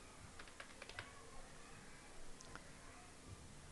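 Quiet, close keystrokes on a computer keyboard while entering code, a few quick clustered taps, then scattered single presses over a low background hiss.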